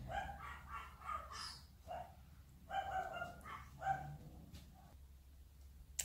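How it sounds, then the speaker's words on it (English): A dog barks in short, distant yips and woofs, several spaced bursts over a quiet room with faint background noise. "I just had to pause because the dog's barking"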